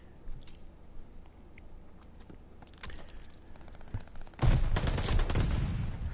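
Rapid gunfire erupts in a competitive team shooter match on a hardpoint map, scattered distant shots and clicks giving way to a dense, loud burst of automatic fire near the end.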